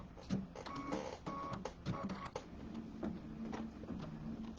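A home embroidery machine stitches a tack-down line, a steady rapid mechanical clatter of needle strokes with small whirring motor tones, running continuously at close range with no talk.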